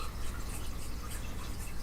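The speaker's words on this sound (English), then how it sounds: "gonna add a bit more water, because I don't want it to dry" Water trickling and dripping as it is added to paint, a continuous close wet splashing with no voices.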